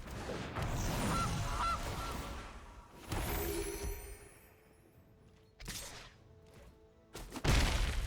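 Goose card honking in Magic: The Gathering Arena, a few loud honks and squawks mixed with whooshing and crashing game effects, separated by short quiet gaps.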